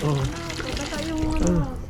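Water running from an outdoor tap in Split, Croatia, a steady splashing trickle under overlapping talk from a family nearby.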